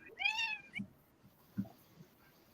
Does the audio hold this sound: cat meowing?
yes